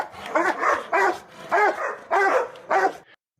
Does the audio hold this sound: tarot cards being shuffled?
no